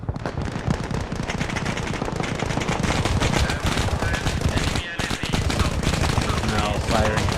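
Sustained machine gun fire in a multiplayer military shooter game, a dense unbroken rattle of rapid shots with only a brief gap, loud and close, while a voice occasionally comments underneath.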